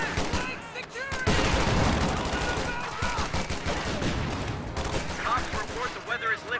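Rapid gunfire and explosions fill a World War II video game battle with Panzerschreck and Volksgrenadier units, dense and continuous, with voices shouting over the combat.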